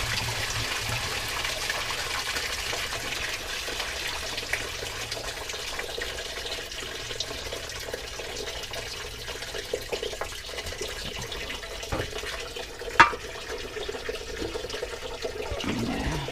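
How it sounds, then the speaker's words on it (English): Coolant drains from the radiator of an Isuzu Chipper truck during a radiator replacement, a steady liquid trickle and splash running throughout with a few faint clanks near the end. "And I just pull it off there like that, and then let her drain."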